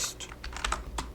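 Typing on a computer keyboard, a rapid, uneven run of light key clicks, close and fairly quiet with no talking.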